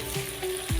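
Brinjals frying in a kadai give off a soft, steady sizzle, with a couple of brief low knocks of stirring or shifting, heard close and quiet in a short burst.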